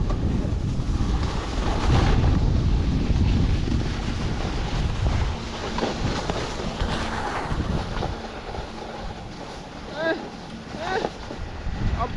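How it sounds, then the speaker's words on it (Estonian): Wind from a headwind buffets the microphone in a steady, heavy roar with gusty swells, loudest in the first few seconds, while a voice talks faintly underneath. "Täna oli vastu tuul."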